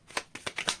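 Tarot cards being shuffled by hand in a few quick riffling bursts, each a short papery flutter with pauses between, close and fairly quiet.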